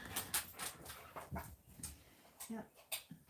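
A pet dog makes faint whimpering yips during a live stream, several short soft cries in irregular bursts mixed with quiet background sounds.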